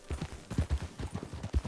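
Horse hooves clip-clop at a steady riding gait in a Western video game, an even run of about a dozen close, distinct hoofbeats with no voices over them.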